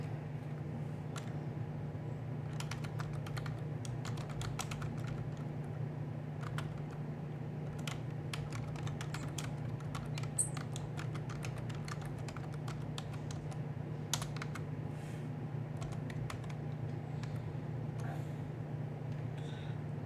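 Light, rapid clicks of typing on a computer keyboard run steadily for about twenty seconds, close and quiet, over a constant low hum from a fan.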